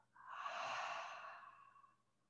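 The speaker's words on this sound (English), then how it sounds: "Exhale through the mouth." A single soft, breathy exhale through the mouth during a prenatal yoga session, rising gently and trailing off over about two seconds, close and quiet.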